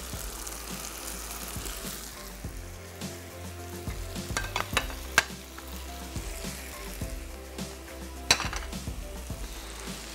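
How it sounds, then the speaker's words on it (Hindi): Boiled potatoes go into a cooking pan and are stirred with a spoon, a steady sizzle of frying under scattered scraping and clinking of utensil against the pan, close by. "और अब ये आलू हमने शामिल करने हैं यहाँ"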